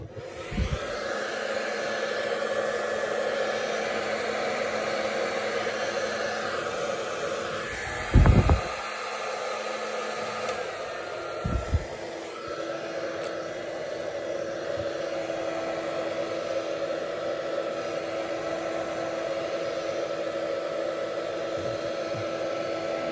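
A hair dryer blows steadily over a mixed media artwork to dry it, a constant close whooshing drone lasting throughout, broken by a few brief knocks and shifts in airflow.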